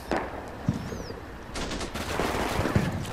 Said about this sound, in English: we're taking fire from the mosque